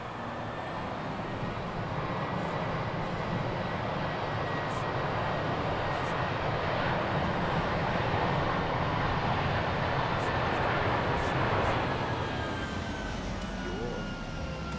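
Airbus A319 airliner after landing in X-Plane 11 fills the cabin with a steady, loud broadband roar of engines and rolling, constant throughout with no pauses.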